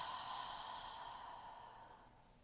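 A long, steady breath exhaled slowly during a guided meditation, a soft airy sigh that fades gradually over a couple of seconds, close and quiet with no talking.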